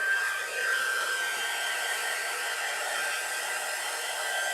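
A hair dryer blows steadily on wet paint on a wooden Easter bunny door hanger, a constant close whooshing hum with no break.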